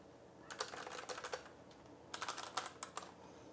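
Someone types on a small Redragon keyboard, two quick bursts of crisp, clicky keystrokes separated by a short pause, close and distinct against a quiet room.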